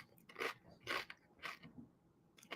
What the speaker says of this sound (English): Sorry if you can hear me crunching there